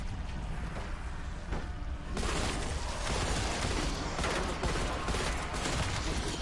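Dense gunfire from Call of Duty: Cold War zombies mode, loud and continuous, with a sudden louder burst partway through that keeps up steadily over a dense, noisy mix.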